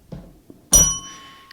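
A single bell is struck once, a loud bright ding that rings on with sustained tones and fades slowly, after a few soft knocks; a faint tap follows near the end.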